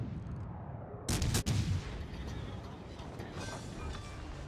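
HE shells fired by the cruiser Hipper in a naval combat video game: a brief cluster of sharp, loud booming shots about a second in, then fading back into a steady low rumble of background noise.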